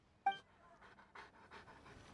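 A dog in Genshin Impact pants in a quick series of soft, breathy huffs following one sharper yelp-like onset, close and fairly quiet with no talking.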